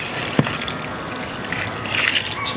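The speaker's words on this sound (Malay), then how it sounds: "Kemudian kita akan tuangkan sebatian ni ke dalam bekas ni" Bokashi liquid mixture pours steadily into a large container, giving a continuous close gushing splash with a small knock near the start.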